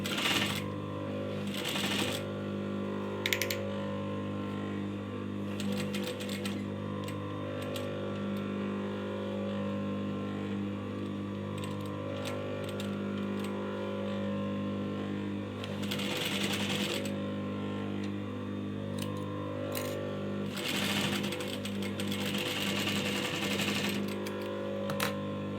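A sewing machine stitches ribbon at the corner of a sharara, its motor whirring steadily and close, with intermittent faster rattling bursts of stitching and small clicks scattered through a long continuous run.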